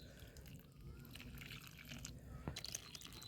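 Cow dung liquid fertilizer poured into the soil beside a young chilli plant in a pot, a soft low wet trickle with a few faint drips and one brief splash, steady and close.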